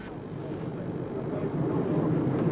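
Sea Harrier jets carrying 1,000-pound bombs take off at dawn, a steady low rumbling roar of jet engines that builds slightly in loudness over a few seconds, heard from a distance without talk.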